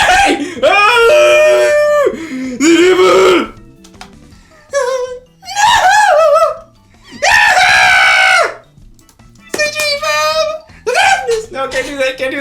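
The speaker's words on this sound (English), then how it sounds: "The voice scream resounds throughout the store" A voiced character screams in a visual novel game, loud, shrill, drawn-out shrieks and wails repeated in several bursts with brief gaps, up close and dominating, with some whimpering and strained vocal sounds mixed in.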